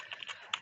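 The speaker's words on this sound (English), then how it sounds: "I'm a bit distracted by the typing" Rapid keystrokes on a computer keyboard tapping out an uneven, clattering rhythm with a sharper click near the end, fairly faint and close.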